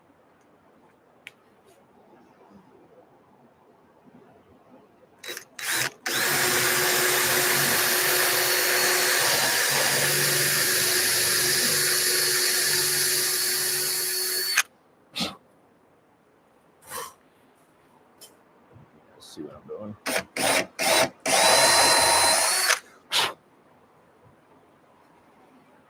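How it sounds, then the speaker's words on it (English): A power drill pre-drills holes for a recoil power setup in a home arcade build, with one long sustained whirring run followed by several short, sharp bursts and a few isolated clicks. "So again, I'm just pre-drilling for my recoil power"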